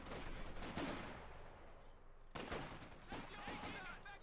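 Bursts of machine gun fire and other gunshots from a Company of Heroes 2 battle, rattling in several clusters at moderate volume.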